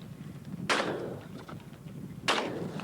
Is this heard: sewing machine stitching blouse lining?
no